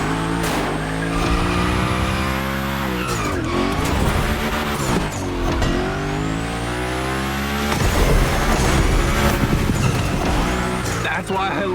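Cars drift and slide through a Hoonigan gymkhana course in the racing game The Crew Motorfest, engines revving loud and constant with repeated screeching tire squeals, music-like tones and a voice talking over the action.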